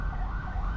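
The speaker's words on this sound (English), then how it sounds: "there's an ambulance outside, so I'm laughing because it's quite loud" An ambulance siren wails outside, loud and continuous, its steady tone filling the whole short moment with no other sounds over it.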